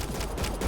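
Rapid, dense automatic gunfire in the sci-fi shooter Mass Effect Andromeda, a loud, continuous rattle of shots in a fast rhythm with no voices.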